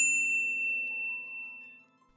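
A bright bell-like notification ding strikes once at the start, its ringing tone lingering and slowly fading over about two seconds, alone with no talk.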